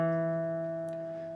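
Single guitar note on the 8th fret of the A string from the intro, plucked once and ringing clean and steady as it slowly decays, alone and fairly quiet.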